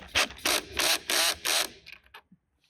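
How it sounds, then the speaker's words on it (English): A power drill's torque clutch slips while driving a screw into an Adirondack chair, five rapid rattling bursts of ratcheting, then a few fainter clicks as it stops, close up and with no voices. "That grinding you hear is that's the actual torque setting because I don't want to over tighten it and strip it."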